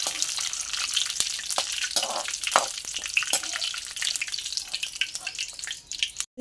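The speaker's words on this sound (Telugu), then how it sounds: "కరివేపాకు కూడా ఫ్రై చేసేసుకున్నామండి నూనెలో." Curry leaves and chana dal frying in hot oil, a busy, steady sizzle with crackling pops and faint stirring scrapes, close and fairly loud throughout.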